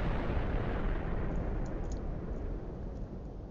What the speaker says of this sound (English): here's a nuclear cluster. Alright, let's see what happens. Nukes away.